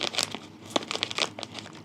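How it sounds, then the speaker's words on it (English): Scissors cut through a plastic tissue culture packet in close, rapid crinkling snips and crunches, irregular bursts with no talking. "It's like these scissors just do not like cutting this type of plastic"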